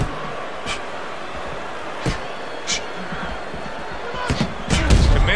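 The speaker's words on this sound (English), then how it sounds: "Committed to the combination punching now." Punches land in a boxing match between Daniel Dubois and Randall "Tex" Cobb, several sharp thuds spaced out and then a quick cluster near the end, over crowd noise and commentary.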